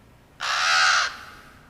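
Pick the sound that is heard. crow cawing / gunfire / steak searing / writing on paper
crow cawing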